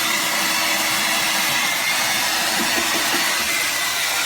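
A Revlon Turbo 1875 W hair dryer runs on full air, giving a steady, loud, broadband whoosh of blowing air with a motor whine that stays even throughout, close to the listener, with no talk.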